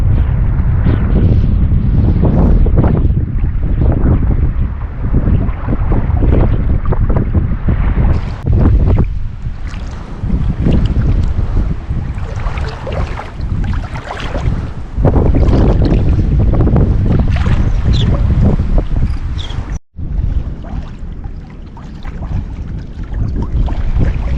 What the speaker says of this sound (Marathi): हवा जाम आहे, जाम हवा आहे